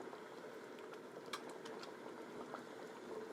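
Red wine sauce simmers in an electric skillet, a quiet, steady bubbling with soft irregular pops and crackles throughout, no talking.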